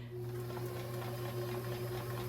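A Kenmore 158-1941 sewing machine runs steadily with a smooth motor hum and fine rapid ticking, quiet and even throughout, with no talk over it.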